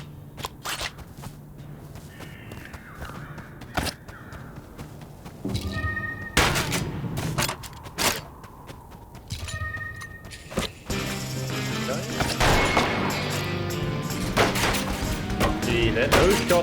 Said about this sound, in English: Those shots are going pretty darn fast at the moment.